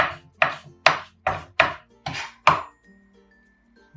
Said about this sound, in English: I'm gonna smash one garlic. Yeah, make sure it's nice and thin.